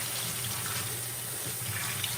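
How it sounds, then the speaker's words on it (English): Tap water runs steadily into a sink while dishes are washed, a constant close rushing hiss with faint clinks beneath it. "I'm just trying to do my dishes because I didn't do them last night"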